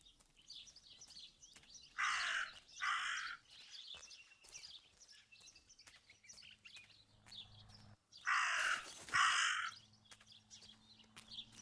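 A raven in the game Martha Is Dead gives two bursts of harsh cawing several seconds apart, fairly close, over a quiet backdrop of small bird chirps and low hum.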